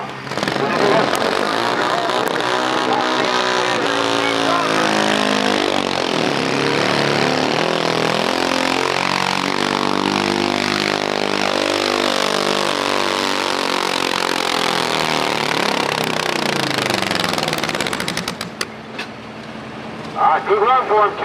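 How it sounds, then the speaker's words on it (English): A single-cylinder carbureted Pro Stock garden tractor engine roars loud and close through a long pull at a tractor pull event, its pitch rising and shifting, then cuts off abruptly near the end. "these Pro Stock tractors that you see, these tractors are single-cylinder engines"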